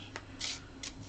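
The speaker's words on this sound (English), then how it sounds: "this is the reward deck. We're going to shuffle it up" A reward deck of cards for Aventuria The Card Game is shuffled close by, with a few quick, quiet riffling bursts in rapid succession.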